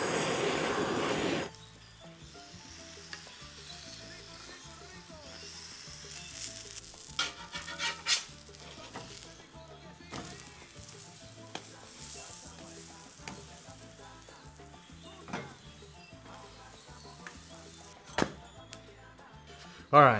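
A Cuban sandwich sizzles and fries in a pan under a bacon press, a soft steady crackle broken by occasional sharp clinks and scrapes, following a brief louder burst at the start.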